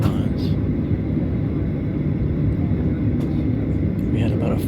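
An American Airlines airplane departing Barbados fills the space with a loud, steady low rumble of engines and cabin noise throughout, with faint voices under it.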